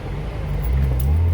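Car named Blueberry, a manual-transmission vehicle, heard from inside as a steady low engine drone that rises slightly in pitch and loudness partway through, close and continuous with no talking.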